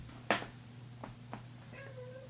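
A female cat looking for water gives a few short, irritated meows in a quiet room, one sharp near cry followed by softer, briefer calls.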